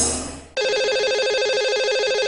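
A brief fading tone gives way to a loud, steady electronic telephone ring with a warbling pulse as a lucky caller's number is dialed on a live Hindi radio call-in show, heard alone without talk.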